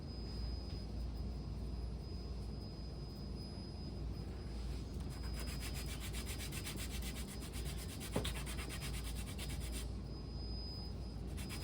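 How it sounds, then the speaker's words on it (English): Sandpaper rubbing the top edges of an assembled piece in a continuous, even scratchy hiss, fairly quiet and unbroken, with a faint steady hum in the background. "This piece, we're gonna just sand the top edges on both sides."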